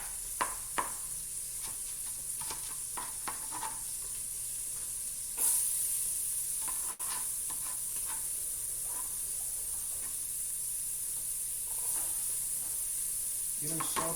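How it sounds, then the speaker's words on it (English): Onions sautéing in bacon fat on a stove fill the space with a steady, even sizzle and hiss, broken by a few soft stirring knocks and a brief louder burst partway through. "I like to saute my onions in my bacon as well"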